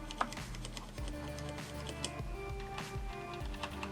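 A Corsair mechanical keyboard with red switches and O-ring dampened keys typed on at an uneven pace, soft close clacks with occasional sharper taps over a faint hum, no talking.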